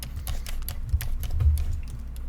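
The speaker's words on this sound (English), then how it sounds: "You hit P on your keyboard" Several computer keyboard key presses while working in ZBrush sculpting software, soft irregular clicks scattered across a couple of seconds over a low background hum.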